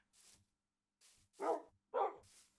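Minecraft dogs (wolves) barking in the video game, a series of about five short barks in a loose rhythm, a few louder and fuller than the others, with no speech.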